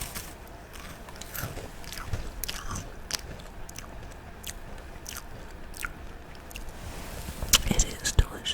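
Someone bites into a layered wafer snack with hazelnut pieces and creamy marshmallow-type bits, giving crisp, crunchy bites followed by close, moist chewing. The sounds come in irregular bursts over soft breathing, with a sharper crunch near the end.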